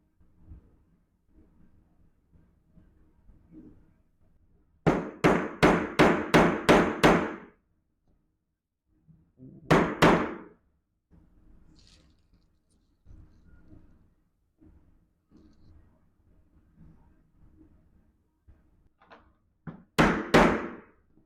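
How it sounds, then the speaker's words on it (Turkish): A hole punch is hammered through leather along a drawn line, sharp loud knocks in fast bursts of several strikes with pauses between, faint talk in the quieter gaps. "zımba yardımıyla çizdiğimiz çizgi üzerinden delik açacağız"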